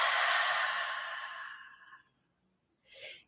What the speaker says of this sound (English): begin breathing in through the nose and out through the mouth